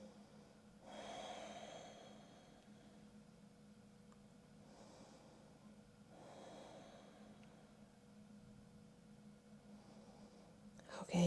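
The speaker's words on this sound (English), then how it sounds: "3 full body breaths" Three soft, full-body breaths during a yoga practice, each a gentle airy swell spaced a few seconds apart over a quiet room hum, close but faint, with a small knock at the end.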